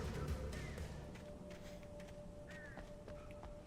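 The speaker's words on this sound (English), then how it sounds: "Attacked by crows." Crows attacking in the video game Alan Wake, harsh cawing calls breaking out a few times over a low ambient game hum, moderately distant and not very loud.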